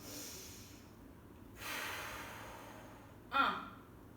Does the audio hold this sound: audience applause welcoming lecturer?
no